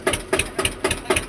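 An Eicher 241 tractor engine creeps forward slowly in first gear, a close, loud chugging beat thumping about four times per second.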